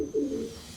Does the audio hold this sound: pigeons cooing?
yes